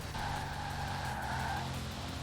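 Car in the racing game Forza Horizon 4, with tires squealing under brief hard braking: a steady high squeal lasting about a second and a half over a continuous engine drone, alone with no talk.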